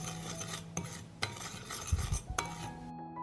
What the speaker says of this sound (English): I will mix the spices.